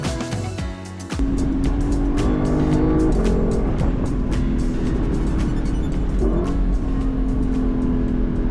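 Race cars lap the Road America track, heard from the woods nearby: a sudden engine roar swells in and holds, with revving, gear changes and passing cars blending into a loud, continuous drone.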